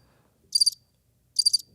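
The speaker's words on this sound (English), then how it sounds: "Yeah, crickets." Crickets chirp in two clear, closely pulsed bursts about a second apart against near silence, crisp and fairly close.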